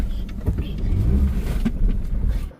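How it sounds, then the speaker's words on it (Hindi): A car pulling into a parking spot at a shopping mall in Dehradun, with a low engine rumble that swells and eases as it manoeuvres, close by, then cuts off at the end, with faint voices underneath. "पहले गाड़ी को पार्क करते हैं"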